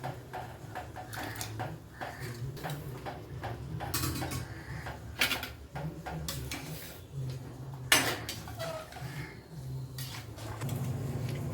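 Potato pieces are tipped into a metal pot while making potato vathal, with a busy kitchen clatter of clinks, taps and scraping utensils against the pot, fairly close, over a low steady background hum.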